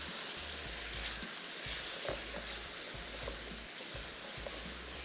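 Chicken pieces fry in a pan for a chicken pasanday, giving a steady, dense sizzle with faint stirring scrapes throughout, no voices.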